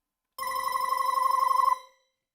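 A telephone bell rings once in a single steady burst lasting about a second and a half, close and fairly loud, then stops abruptly with no voices around it.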